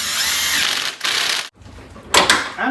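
A power tool works on a Corolla during a serpentine belt job, loud broadband whirring bursts in two runs separated by a brief pause, then a short sharp final burst, with no talking.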